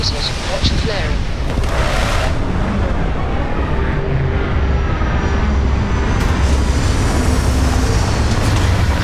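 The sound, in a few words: spaceship landing in video game Starfield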